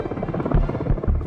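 Rescue helicopter over Kentucky floodwaters, its rotor thumping in a steady low rhythmic chop with heavy bursts, close and loud, no voices.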